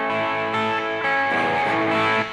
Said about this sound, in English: I'm going to take this slide and I'm going to place it right on the 5th fret over the fret wire